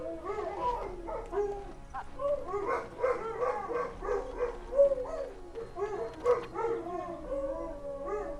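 A dog in the video game Dragon Age: Origins yelps, whines and howls in a continuous run of close, mid-loud cries, with no talk over it.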